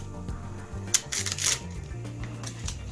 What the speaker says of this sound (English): So I've got a giant roll of transfer tape here. Just gonna peel off a little bit.